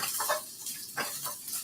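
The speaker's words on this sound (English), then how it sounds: "And I'll just throw some onions in with that right now." Onions dropped into a hot pan with garlic, giving a soft sizzle with scattered clinks and scraping stirs in a kitchen, moderately quiet and close.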